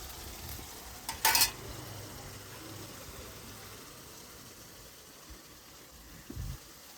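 A ground spice paste fries and is stirred in a hot pan, making a low, steady sizzle with a brief louder clatter near the start and faint scraping later.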